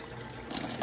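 Water from a Kangen K8 machine pours into its green chamber, a brief, steady splashing stream that swells slightly toward the end, close and alone.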